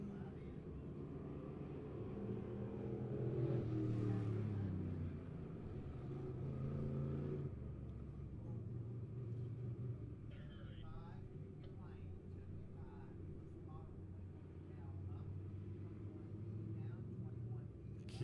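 Sheet-metal race cars circling the track at Lebanon Midway during a night event, engines droning and rising at a distance beneath steady announcer commentary.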